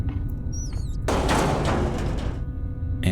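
A locked door is tried in the video game Nancy Drew: Alibi in Ashes. A short, loud rattling burst of about a second and a half follows a brief whistling tone, then a quick knock at the end.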